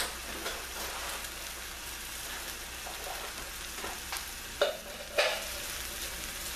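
Tomato sauce sizzling in a hot pan while being stirred, a steady crackling hiss with a couple of sharper clinks and spatters near the end, close and without voices.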